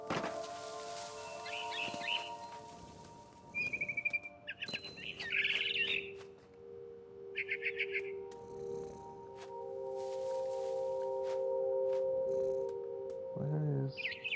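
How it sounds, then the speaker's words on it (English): Short bird chirps and tweets from the video game What Remains of Edith Finch, appearing in scattered bursts over a soft game ambience with tonal hums and a low thump near the end. "I tried to be quiet, but the bird was really scared."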